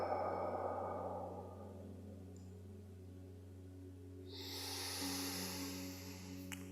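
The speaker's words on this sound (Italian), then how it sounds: "e facciamo un bel respiro profondo" A slow, deep breath taken during a guided heart meditation: a soft breathy inhale, then a long quiet pause before a gentle, airy exhale rises near the end, over a low steady background hum.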